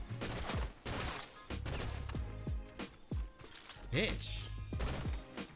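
Gunfire in a video game, several sharp shots and short bursts spread unevenly over a few seconds, with a person's voice briefly speaking between them.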